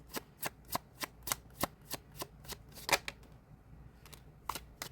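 Tarot cards are shuffled during a reading, producing a quick, regular run of crisp riffling snaps, close and fairly quiet, with no one talking.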